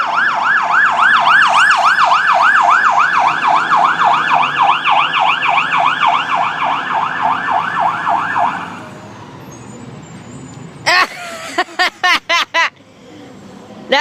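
Siren of a Pierce fire engine, Engine 3, responding: a loud wailing siren cycles steadily for about eight seconds, then fades out, followed by several sharp air-horn-like blasts near the end.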